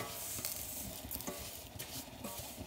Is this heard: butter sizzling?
yes